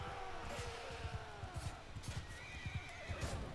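In the video game Mount & Blade II Bannerlord, a horse whinnies in a rising and falling call over a steady run of clip-clopping hoofbeats and a background battle din.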